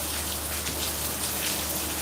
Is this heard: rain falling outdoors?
yes